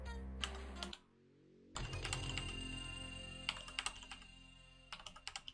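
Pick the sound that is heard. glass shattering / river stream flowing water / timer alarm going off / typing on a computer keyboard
typing on a computer keyboard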